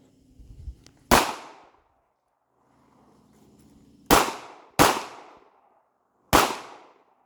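Four sharp, loud Ruger LCP pistol shots ring out alone, one single report followed after a pause by a quick pair and then a last shot, each with a short decaying echo.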